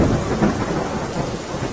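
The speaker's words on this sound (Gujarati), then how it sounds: "વલસાડ જિલ્લામાં સતત વરસાદ વરસી રહ્યો છે" Steady, dense monsoon rain pours down in Valsad district, Gujarat, in a continuous wash of noise, with no voices.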